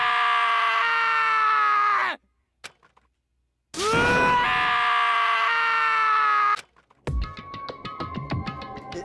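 Taka, a character in the Danganronpa video game, lets out long, loud, strained screams in two sustained bursts with a silent gap between them, followed by a ringing tonal sound.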